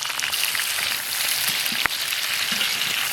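Pork belly stir-fried with dried chilies, scallion and ginger in a wok gives a steady, close crackling sizzle with one sharp pop midway and no talk.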